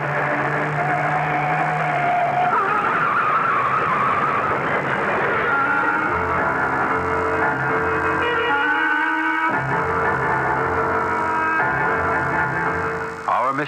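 In a radio drama, a car skids off the road as a tense sound effect: roaring engine and screeching tones rise and shift over several seconds, then give way to a steady droning bed, loud throughout.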